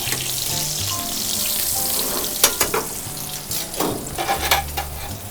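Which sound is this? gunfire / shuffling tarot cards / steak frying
steak frying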